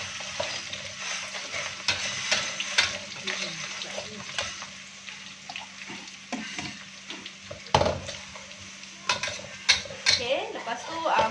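Anchovies (ikan bilis) sizzling with garlic in a hot pan, a steady frying hiss broken by repeated scrapes and clinks of a spatula being stirred against the metal.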